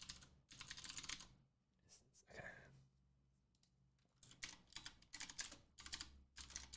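Code being typed on a computer keyboard, bursts of rapid close key clicks separated by a short pause with a faint thump, then resuming in steady runs of keystrokes.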